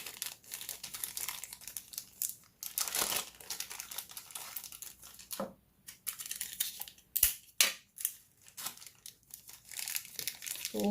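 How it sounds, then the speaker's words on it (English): A small bag crinkling and rustling while giveaway prizes are packed, with close, continuous plastic crackles and sharper scrunches and a few pauses. "I'm going to grab this little bag right here."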